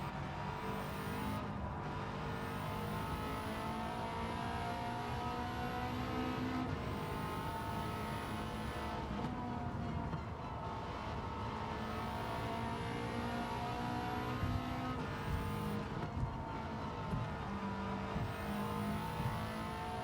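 Subaru Impreza WRX STI race car in Gran Turismo 7 on Tokyo Expressway, its engine roaring steadily and loudly throughout, with repeated rising revs and shift breaks as it accelerates.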